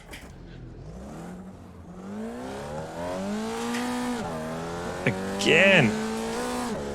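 Race car spinning out in iRacing's Formula Vee sim at Laguna Seca: a steady engine drone rises and falls through gear changes, then a sharp burst of tire squeal near the end, with someone talking briefly over it.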